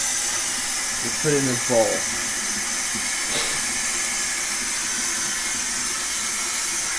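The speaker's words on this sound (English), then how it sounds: "you turn the sink on, and then you let it run for like 5 minutes so it gets really hot" Hot tap water running steadily into a kitchen sink makes a broad, constant hiss close by, and a voice speaks briefly over it.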